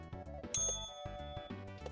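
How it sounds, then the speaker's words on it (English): A bright bell dings over and over in quick succession, light metallic rings repeating at a steady rhythm over a soft, busy musical background. "That'll wake some people up, just hearing the bell sound constantly."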